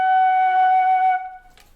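A single sustained F sharp on a concert flute, held steady and clear for about a second before cutting off, followed by a faint breathy tail and a small click.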